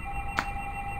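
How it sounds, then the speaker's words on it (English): A telephone ringing indoors in a craft studio, one short electronic trill standing out over a steady background hum. "Oh, there goes the phone."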